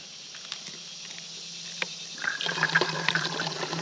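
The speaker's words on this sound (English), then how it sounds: "I'm gonna fill this up, fill the bladder up, fill this up again so I can have water to filter later" Water runs into a hydration bladder at a trail stop, a quiet trickle that swells into a steady gurgling fill in the second half, with faint rustling before it.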